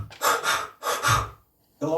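Two quick forceful diaphragmatic breaths, each sharp inhale pushed straight out into an immediate exhale, close and loud during a vocal lesson, followed by a short pause and another breath starting.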